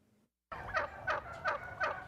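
Turkeys gobble four times in an even rhythm, a clear, fairly close burst after a short silence.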